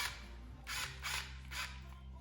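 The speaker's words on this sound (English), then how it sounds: "Then go ahead and tighten all your clamps" Clamps on the carburetor boots of a 1981 Honda CB750 are tightened with a tool, giving three short, close ratcheting bursts over a low steady hum.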